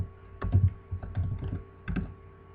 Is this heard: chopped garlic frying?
no